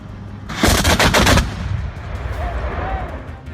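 An Oerlikon GDF anti-aircraft autocannon fires a short, loud rapid burst of about a dozen heavy rounds, then the blasts give way to a rumbling echo and low background noise.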